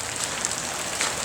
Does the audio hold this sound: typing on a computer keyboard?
no